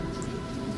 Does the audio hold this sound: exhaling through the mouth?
no